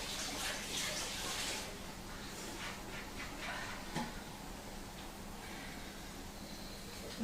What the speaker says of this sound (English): Just let me wash my hands